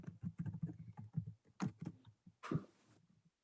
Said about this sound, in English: I'm typing that in right now